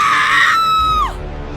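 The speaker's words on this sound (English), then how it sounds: "She screamed." A woman screams loudly, a high sustained shriek that holds steady then slides sharply downward and cuts off.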